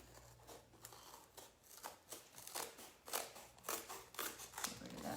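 Scissors cut carefully through cardboard, a steady series of quiet close snips and crunchy slices repeating irregularly for several seconds, with a faint low hum underneath and no talk.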